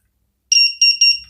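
A cheap homemade component tester gives three short, shrill electronic beeps in quick succession while a coil is tested. They come abruptly out of silence, clear and close, with no speech.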